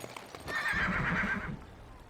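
A horse whinnies in the video game Farthest Frontier, one short rising-and-falling neigh at moderate loudness against a soft game background, with no speech over it.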